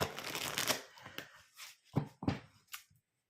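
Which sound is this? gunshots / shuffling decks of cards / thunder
shuffling decks of cards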